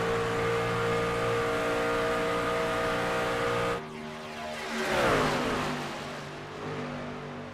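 Sim race cars lapping at Las Vegas, a steady loud engine drone with layered tones, then a car sweeping past with a falling pitch as the roar swells and fades.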